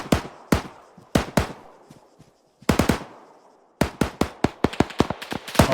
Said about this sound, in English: They need to be very, very careful firing across here.